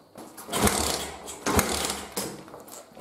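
A motorcycle engine kicked over by its kick starter, three quick mechanical bursts at roughly even intervals, each a sharp clattering strike fading into a short chug, close and fairly loud.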